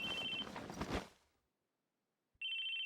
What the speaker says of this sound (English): It was the sound of a phone ringing.